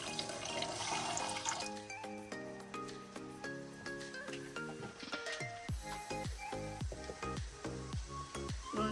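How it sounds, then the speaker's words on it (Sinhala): Water is poured into sugar in a pan while making syrup for sugar-flake sweets, a steady splashing and hissing pour heard faintly against a low background with tonal hum. "වතුර කෝප්ප කාලක් විතර එකතු කරගන්න."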